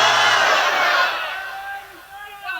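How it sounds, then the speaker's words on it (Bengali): A large crowd roars a loud takbir together, a dense wall of voices that swells then fades, with a single voice rising again at the end. "একটা জোরে তাকবীর দাও।"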